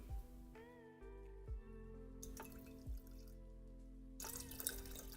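Freshly boiled water being poured into a cup, with quiet trickling and drips, a few soft knocks, and a louder splashing burst near the end.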